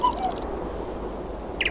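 Mechanical clockwork bird in the game Lighthouse, heard as a few short high chirps and tweets at the start and again near the end over a low steady hum.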